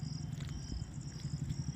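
A neighbour's cat purrs close by, a low, continuous rumbling purr with a steady pulsing rhythm and a faint high tone in the background.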